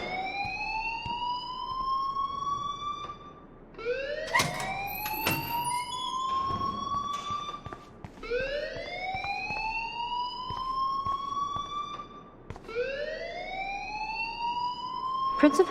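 An alarm blares in the video game Life is Strange, a repeating rising electronic whoop cycling about every four seconds, steady and prominent, with some background movement and clatter between sweeps.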